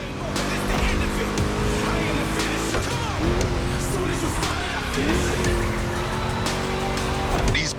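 A Ford Mustang muscle car roars through a race in The Crew Motorfest, its engine climbing and dropping through gear changes while tires squeal and skid, loud and continuous throughout.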